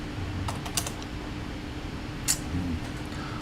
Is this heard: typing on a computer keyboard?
yes